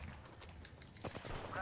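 Bursts of video game gunfire crack in short, scattered volleys, fairly faint, with a few sharper shots near the end.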